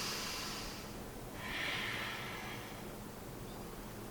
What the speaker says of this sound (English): A couple of deep breaths here.